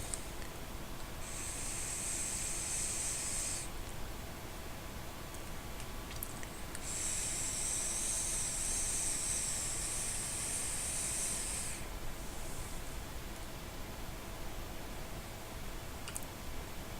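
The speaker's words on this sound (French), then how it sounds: "Donc je le vape sur mon TMP modifié avec mon mini RDA modifié." Two long hissing draws of vapor from a modified TMP mod with a modified mini RDA, each lasting a few seconds with a pause between, close and fairly quiet, with no talk.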